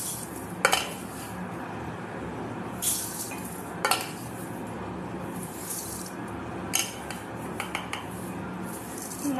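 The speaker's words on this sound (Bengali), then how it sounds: "আমি ঠিক করে মেপে চালটাকে নিয়ে নিই" Uncooked rice being measured out in a home kitchen, with scattered clinks and scrapes of a metal measuring cup and pots over a steady background hiss, close and intermittent.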